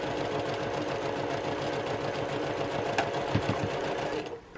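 A quilter's sewing machine runs steadily through fabric, stitching a quilt block square with a continuous rapid hum that stops abruptly at the end.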